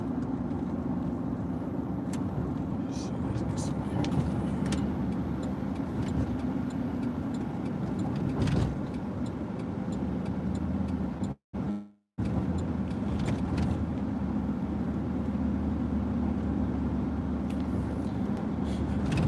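A car drives along steadily with a low, continuous engine and road hum, fairly quiet, broken by a brief dropout in the middle.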